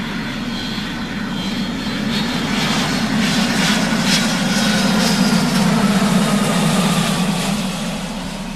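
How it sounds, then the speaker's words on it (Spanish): Airplane jet turbine engine roaring continuously, a broad steady rumble with a whining hum that swells slightly in the middle, loud and close with no voices. "A la turbina de un avión."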